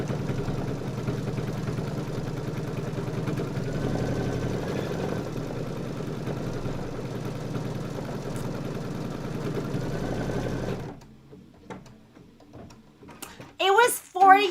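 An embroidery sewing machine runs a tack-down stitch, a steady, close mechanical whir with a fast stitching rhythm for about eleven seconds, then it stops and people talk.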